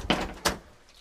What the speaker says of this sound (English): I'll just lock the door.